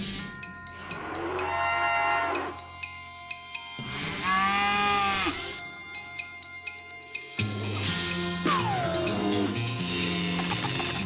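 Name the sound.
demon cow mooing during a fight, from a video game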